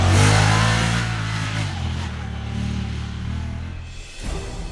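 A UTV engine in southern Utah revs hard, then settles into a steady, loud mid-pitched drone as the vehicle crawls through a narrow slot canyon, easing off briefly before picking up again near the end.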